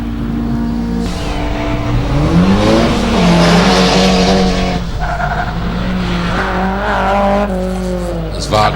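A Nissan 180 SX race car at a hillclimb event revs hard through the gears, its engine rising and falling in pitch with tire squeal between shifts, heard under a commentator's continuous talk.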